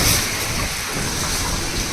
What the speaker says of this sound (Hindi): तो बहुत तेज आंधी आ रही है